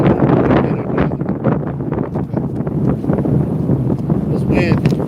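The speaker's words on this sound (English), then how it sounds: "This wind isn't being easy." Strong wind on a day of fishing from a pole at Haystack, roaring steadily and loudly into the microphone with gusting rumble and rustle throughout.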